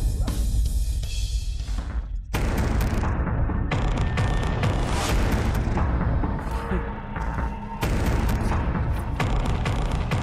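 Heavy gunfire and booming blasts fill a drama fight scene, loud and dense throughout with repeated bursts and a brief lull near the start, as a man taunts an opponent about weapons.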